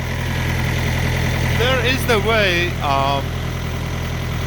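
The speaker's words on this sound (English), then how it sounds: "All right, so this engine started." A 2019 Thermo King S600 refrigeration unit's engine idles with a steady, loud mid-low drone and vibration throughout, while someone briefly talks over it.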